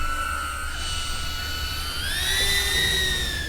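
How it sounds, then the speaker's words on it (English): A loud police drone hovers nearby, its rotors whining in a sustained tonal hum that rises in pitch partway through as it speeds up, over a low rumbling background. "This drone is very loud and intimidating when you hear it."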